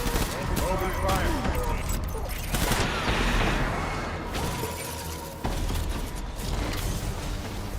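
Gunfire in the video game Death Stranding, a dense fusillade of rapid shots with shattering impacts and mechanical clatter, loud bursts mixed with voices talking over the action.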